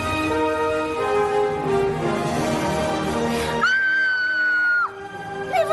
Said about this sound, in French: Elle est surprise, commence à crier.